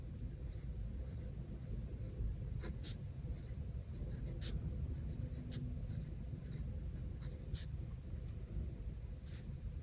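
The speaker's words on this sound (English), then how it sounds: "So I'm going to write the title or the name of that up here" A pen writes a title into a planner, faint scratchy strokes coming in short irregular bursts over a constant low rumble of room noise.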